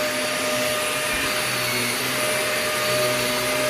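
A vacuum cleaner runs steadily on a carpet marked with pet spots, a loud, continuous broadband whine with a constant motor hum that barely changes across the stretch, no voices over it.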